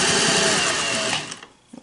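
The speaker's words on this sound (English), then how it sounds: "So just going to sew right through that, no problem." A Singer 401A Slant-O-Matic sewing machine stitches through several layers of faux leather, a steady, dense mechanical whir that runs for about a second and a quarter, then stops and leaves a few faint clicks.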